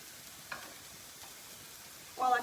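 Sausage patties fry in a pan with a faint, steady sizzle, broken by a light clink early on and a louder burst of sizzling near the end.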